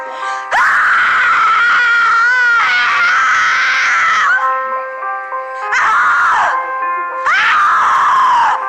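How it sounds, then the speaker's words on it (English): Psycho Scream sound effects from freesound.org: long, loud, piercing screams with wavering pitch, broken by short pauses, several shrieks in a row. "And here are the screams on freesound.org."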